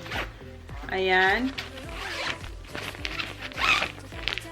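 A luggage bag zipper is pulled in a few quick rasping strokes while someone talks over it, with light handling noise between the zips.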